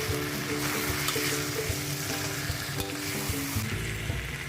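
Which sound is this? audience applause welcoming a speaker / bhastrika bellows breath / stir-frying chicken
stir-frying chicken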